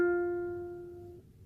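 A single plucked ukulele note on the E string, fretted as part of an F chord shape, rings clear and close, then fades steadily and cuts off after about a second.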